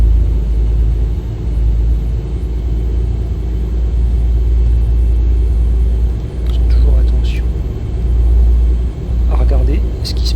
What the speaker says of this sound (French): on va mettre un petit pied de gaz et on va tout doucement s'engager sur les voies de circulation